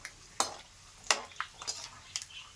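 Peanuts roasting in a pan at home, stirred in separate scraping, rattling strokes about every half second, close and fairly quiet, with no talking.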